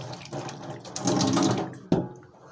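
Nutmeg being rinsed in water in a home kitchen, with a steady splashing and running-water wash that swells in the middle and ends in a sharp knock near the close.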